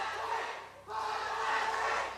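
An esports arena crowd at a League of Legends match, Fnatic versus H2K at an EU LCS regional qualifier, roars in a sustained dense wall of cheering. It dips briefly and then surges back just as loud.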